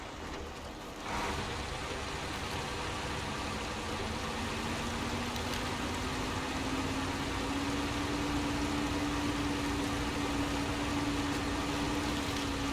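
Truck engine in SnowRunner, pulling uphill with a new engine fitted, a steady loud drone that climbs slowly in pitch as it labors up the mountain, heard alone after a brief quieter start.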